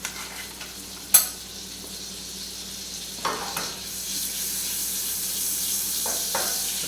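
Butter melts in a pan for an omelette, giving a soft sizzle that builds into a steady hiss. A few sharp clinks and scrapes of stirring cut through it.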